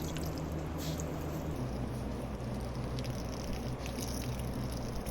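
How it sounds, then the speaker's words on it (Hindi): A beauty blender makeup sponge is rinsed under running water, giving a continuous close pour and splash with soft squishing, steady throughout, no talking. "अच्छे से वॉश होने के बाद इसे 5-6 पानी से अच्छे से रिंस कीजिए जब तक कि क्लियर वाटर"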